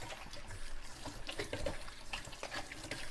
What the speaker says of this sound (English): what I'm going to do now is wash my hands